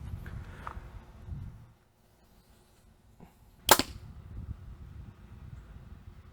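A single sharp arrow release from a Sanlida Dragon 7 budget bow, shot through a chronograph, gives one loud snap with a quick thud, set between quieter handling noise and rustle before and after.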